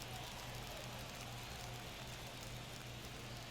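Steady rain falls on a San Diego ballpark in a baseball video game, a constant close hiss with no breaks for the whole stretch.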